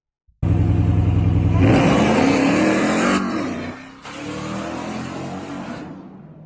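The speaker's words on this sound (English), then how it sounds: "having a pickup truck that goes this fast" A pickup truck accelerates hard with a loud, close engine roar that climbs steadily in pitch, drops off briefly, then surges again.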